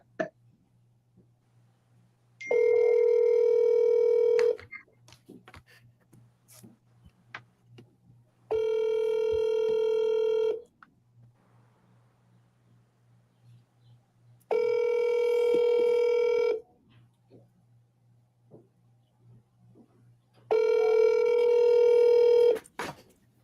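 An unanswered telephone call rings in four long, evenly spaced bursts, each about two seconds of loud electronic tone, with soft hum and faint background noise between the rings.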